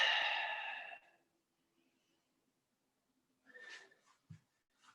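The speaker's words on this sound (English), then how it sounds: "Nice deep breath." A single deep breath during a home workout, a loud airy exhale close up that fades out, then a pause and a couple of softer breathy sounds.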